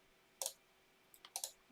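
Keys tapped on a computer keyboard in a quiet room: one soft click, a pause, then a quick burst of three or four sharper clicks, close and fairly faint.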